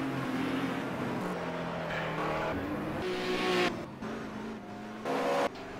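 A heavy Ford Mustang touring car races at Teretonga during the 1985 New Zealand Touring Car Championship, its engine roaring loud and close while tyres squeal under understeer, with gear changes and shifting engine pitch.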